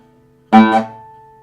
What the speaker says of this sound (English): The D string is resonating.